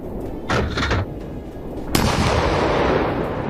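An Abrams tank firing its cannon at a Russian convoy: one sharp, loud blast lands partway through, following a brief burst of noise earlier, then a long rumbling roar and wash of debris that carries on to the end.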